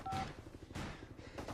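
A brief electronic beep from a mobile phone's speed dial opens the moment, followed by faint bursts of noise and soft clicks at low volume, with no voices.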